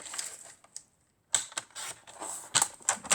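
Scissors cut a narrow paper strip for a scrapbook album page, a run of close, crisp snips in quick irregular bursts around a short pause.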